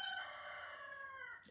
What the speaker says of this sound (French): C'était le bonjour du coq.